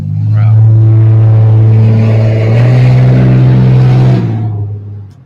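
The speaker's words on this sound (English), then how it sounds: "That's straight line exhaust. Dude, that was like an F-350" A pickup truck, something like a Ford F-350, with a straight-pipe exhaust roars past close by. Its deep, loud engine drone swells and then fades over several seconds, and people talk over it.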